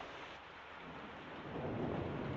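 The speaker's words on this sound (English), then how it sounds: "And poor Edwards, these storms don't do him any good." A steady thunderstorm with dense rain hiss and a low thunder rumble swelling toward the end, heard alone without voices, from a 1946 film noir scene.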